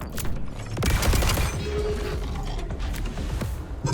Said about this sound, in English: Okay, no, I just shoot them.